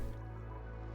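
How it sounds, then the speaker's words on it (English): Water drips in the video game Oxygen Not Included, a soft liquid drip over a steady low hum, faint and continuous through the short moment. "We're just filling this back up with more water as it drips down."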